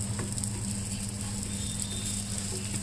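Old ariselu, rice sweets, frying in ghee in a pan over a low flame, giving a steady soft sizzle and faint patter that runs evenly throughout with no talking.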